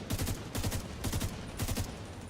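A rifle in a video game fires rapid three-round bursts, several sharp clustered volleys in quick succession, loud and close with no talk.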